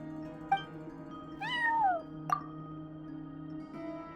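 A cat meows at a front desk in the game Genshin Impact, with two distinct rising-falling meows near the middle. A soft plop before them and a short chirp after them sit over a steady hum of background music.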